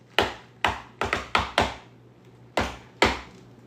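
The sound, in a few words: knocking on a door, imitated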